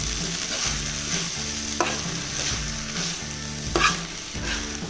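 Chicken seekh kebabs with onions and capsicum being stirred in a frying pan, a steady sizzle under repeated scraping strokes of a spatula, with a few sharper clanks against the pan and no talking.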